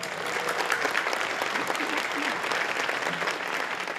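Steady, dense applause from a large crowd at a Liberal Party gathering, continuous and fairly loud for the whole stretch with no break.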